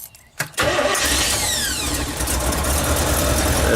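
An RV engine is fired up through an added starter switch: a brief quiet moment, a sharp crank, then the motor catches and settles into a steady, loud idle.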